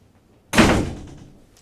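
A single door slams shut close by, a sudden loud bang with a short fading rattle afterward, heard alone against near silence.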